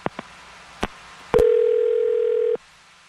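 A telephone dial tone hums steadily for just over a second after a few button clicks while a phone number is being called, close and clear.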